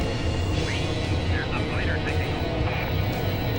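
Steady aircraft engine drone from the video game Silpheed: The Lost Planet, loud and continuous with faint sweeping tones and a voice talking over it.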